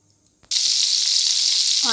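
Oil and butter heating in a pan for paneer butter masala burst into a loud, steady sizzle after a brief quiet start, holding bright and close to the end.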